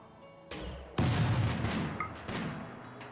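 Sniper rifle shots in RimWorld's Odyssey expansion, a few sharp, booming reports spaced about half a second to a second apart, each with a rolling tail, mid-distance and fairly loud.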